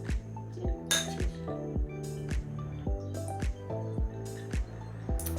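Glassware and ice clink repeatedly during an Old Fashioned cocktail toast, with bright close taps and chimes ringing out in an uneven series, and no talk.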